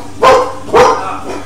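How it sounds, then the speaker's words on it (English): A dog acting as a watchdog barks twice, loud and close, with a fainter third yap trailing after; no one talks. "watching a dog, and apparently it is being a watchdog at the moment"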